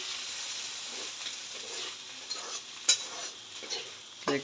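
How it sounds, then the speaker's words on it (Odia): Mushrooms fry quietly in a pan at home, a faint hiss of sizzling broken by soft stirring scrapes and a couple of light utensil clinks. "ଛତୁ ଭଜା ଚାଲିଛି ଫାଇନାଲ।"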